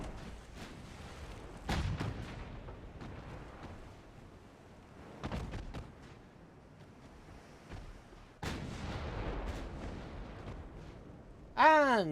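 The 6-inch naval guns of the light cruiser Weymouth fire in Ultimate Admiral: Dreadnoughts: three or four heavy booms spaced seconds apart, each with a rumbling tail, and a brief whistling sweep at the end.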